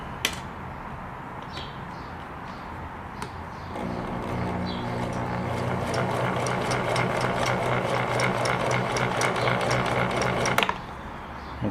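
Singer 1036 sewing machine stitching a straight stitch, starting after a few clicks and running fast and steady for several seconds with a rapid mechanical chatter before stopping abruptly.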